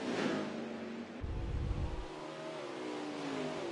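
Race cars in a sim racing game accelerate off the start at Road America, a swelling chorus of engines with a rising low roar that fades into steady revving drone.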